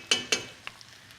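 Wooden spoon scraping and stirring tomato paste in a stew pot of South American beef shank stew, two close scrapes followed by softer taps, no talk.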